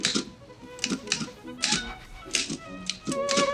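Typewriter keys clack in uneven bursts during a film scene, a manual machine struck at a brisk, irregular pace with brief pauses between flurries, fairly close and steady.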